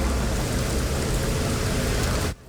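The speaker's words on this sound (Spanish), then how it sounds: "Guayaquil empezó y termina la semana con fuertes lluvias y caída de rayos" Heavy rain pours over Guayaquil during a storm, a loud, dense, continuous roar of water that cuts off abruptly near the end.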